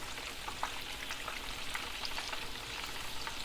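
Beans and meat fry in a pan for a Khmer meat spread, giving a steady dense sizzle and fine crackling that holds at an even level without any talk.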